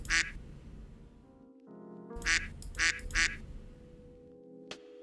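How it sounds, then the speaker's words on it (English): A duck quack sound effect triggered in a Discord chat: one quack, then after a short tonal beep three quacks in a quick run, loud and close, with a faint click at the end and room noise beneath. "This is the duck you were talking about."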